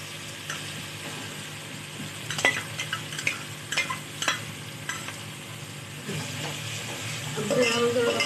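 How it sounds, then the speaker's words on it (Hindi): Ginger, garlic and green chili paste goes into a hot pan for chicken white pulao, bringing a steady sizzle with scattered spoon scrapes and clinks against the pan. "अब मैं इसको ऐड करने वाली हूँ अदरक, लहसुन और हरी मिर्ची का पेस्ट।"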